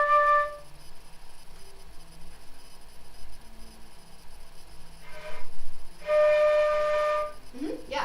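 A student flute sounds a breathy D note, first as a brief tone at the start and then a steadier held note of about a second near the end, faint and airy against background rustle and noise.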